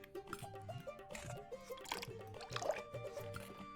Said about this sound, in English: we're gonna put water in it